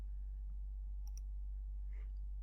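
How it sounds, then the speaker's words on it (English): Two quick mouse clicks opening the Arduino IDE, crisp and close against a low electrical hum, with faint shuffling afterward and no talking. "So if I go and I click"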